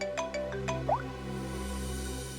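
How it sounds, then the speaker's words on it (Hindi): A phone ringtone sounds during a tense police drama scene, a few short bright electronic tones near the start followed by a rising chirp over a steady low background hum, with no talking. "डीसीपी चित्रों ने मुझे क्यों फोन करा?"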